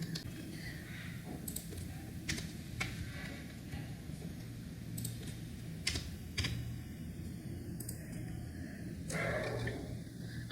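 Computer keyboard typing while writing HTML code, light irregular clicks and key taps close by over a low steady hum, fairly quiet.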